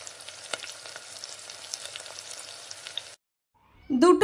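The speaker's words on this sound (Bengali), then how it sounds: "একটা পিঠ ভালোভাবে ভাজা হয়ে গেলে উল্টো পিঠটাকেও একইভাবে ভেজে নিচ্ছি" Poppy seed fritters (posto bora) frying in hot oil over a medium gas flame, a steady close sizzle with occasional pops that cuts off abruptly, followed by a brief loud clatter or voice at the end.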